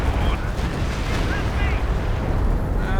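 Nebelwerfer rocket barrage firing in Company of Heroes 2, a dense, continuous low rumble of launches and blasts packed with crackling bursts, loud throughout with faint game tones and voices mixed in.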